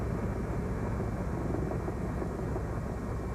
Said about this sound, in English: So we took a ride in the helicopter up around Clarion.